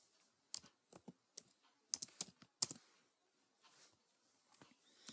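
Java code being typed on a computer keyboard: bursts of crisp key clicks in quick irregular runs with brief pauses, fairly close and alone.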